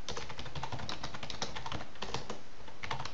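Rapid, continuous clicking of computer keyboard keys as text is typed, close and fairly loud with uneven bursts and brief pauses, alone without talk.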